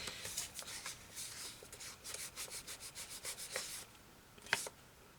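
A paper envelope being handled and rubbed, with quiet rhythmic scraping strokes repeating in quick succession, then a brief pause and one sharper crinkle near the end.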